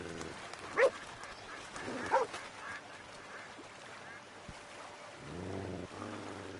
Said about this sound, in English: I don't want the bounty hunters to come back because of that dog barking either